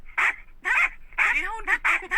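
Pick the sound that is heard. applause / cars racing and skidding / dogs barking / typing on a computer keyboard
dogs barking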